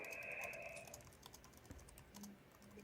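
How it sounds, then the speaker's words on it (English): Quick, irregular clacks of typing on a computer keyboard, close and fairly quiet, with a brief electronic tone near the start and faint low tones toward the end. "You're typing. I don't like it when you type."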